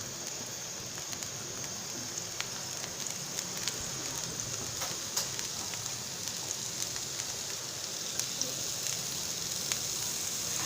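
Eggplant slices frying in hot oil on a grill pan, a steady dense sizzle with tiny popping crackles throughout, moderately quiet and unbroken with no talk.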